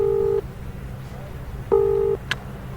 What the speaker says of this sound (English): You quickly pulled out your cell phone and called up the apartment company.